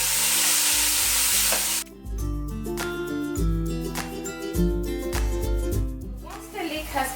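Diced pancetta and leeks sizzle and crackle steadily in a hot pan while cooking leek and potato soup, with a burst of sizzle at the start and then a quieter fry under background music.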